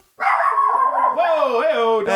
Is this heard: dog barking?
yes